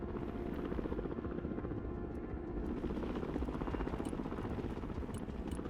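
A helicopter flies in the Broken Arrow modern warfare strategy game, its dense, continuous rotor thrum loud and steady throughout with no speech.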